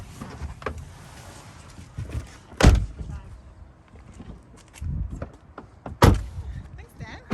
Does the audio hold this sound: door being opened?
yes